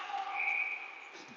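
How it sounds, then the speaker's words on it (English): A referee's whistle blows for offside in an ice hockey game at a rink: one clear, steady shrill tone held for about a second, moderately loud and fading out. "So we have an offside whistle"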